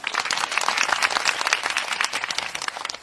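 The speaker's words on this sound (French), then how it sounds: "on applaudit." A small group claps and applauds steadily for a few seconds, close by, with no talking.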